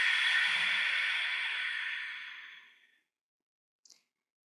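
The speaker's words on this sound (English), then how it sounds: "Exhale fully." A long, full exhalation during yoga breathing, loud and airy at first and fading gradually over nearly three seconds into silence, followed by a tiny faint click.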